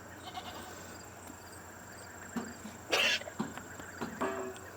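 Goats on a pasture, including a favorite old doe named Butterscotch, giving a few short bleats and cough-like grunts at close range in a quiet outdoor setting.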